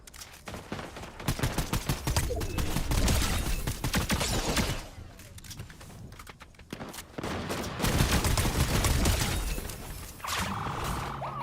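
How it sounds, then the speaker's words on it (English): Rapid bursts of automatic gunfire from a bot firing at the player in the video game GTA Online, loud crackling volleys in several stretches separated by brief lulls, with mechanical clicks near the end and no speech. "Got a bot shooting me already."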